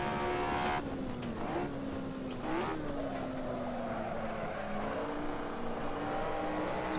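Race car engine in the Assetto Corsa racing game, a continuous mid-rev growl under partial throttle, with pitch rising and falling through gear changes and corners, loud and steady for the whole stretch.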